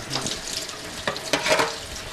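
Tap water runs into a sink as hands are rinsed, giving short uneven splashing bursts up close with no talking.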